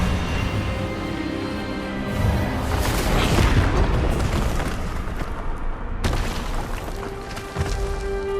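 A spell blast from the Hogwarts Legacy video game, a loud sustained burst of magical energy with a booming, rumbling wash that swells midway, cuts sharply and trails off over game music.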